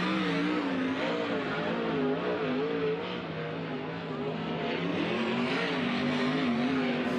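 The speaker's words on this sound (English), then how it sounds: "Next two cars onto the Speedway." Winged sprint race cars roll onto the Kings Speedway dirt oval for a High Limit qualifying session, engines droning and revving steadily at moderate distance with no clear pauses.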